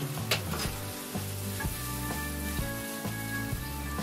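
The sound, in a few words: peperoncino pasta sauce heating and sizzling in a pan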